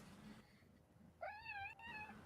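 A house cat meows clearly and close by in a single drawn-out, wavering call, with a low room murmur before it and no talking over it.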